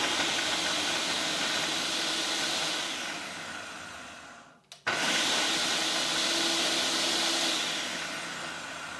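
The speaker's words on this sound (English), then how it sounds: "I broke it up and put it in the blender" A blender pulsing torn Italian loaf into breadcrumbs, a loud steady whirring roar that cuts out briefly in the middle and then starts up again, close and continuous.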